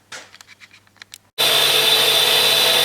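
A tool grinder cuts the clearance angle on a milling cutter, starting after a few light taps and then holding as a steady, loud, continuous grinding whine.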